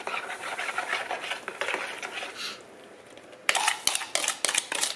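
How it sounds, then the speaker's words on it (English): A spoon stirs sugar into gluten-free zucchini bread batter in a bowl, giving steady close scraping and rubbing, then a short pause and several sharper, louder clinks and scrapes at the end. "We're going to stir that in. And the sugar."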